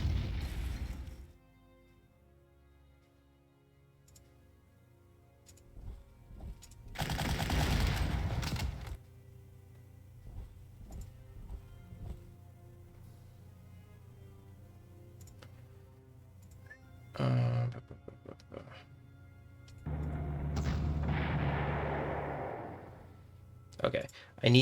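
Bursts of gunfire and booming explosions from an attack in the World War II strategy game Panzer Corps, several loud blasts spaced apart amid scattered clicks and quieter game noise.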